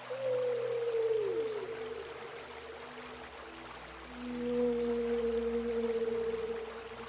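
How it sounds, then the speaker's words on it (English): Distant whale calls drift over a coastal ambience in Skyrim with the Whales of the Coast mod, two long low moaning tones, the second rising later, set against steady soft wash. "the Whales of the Coast mod will add the sound of distant whales to coastal regions"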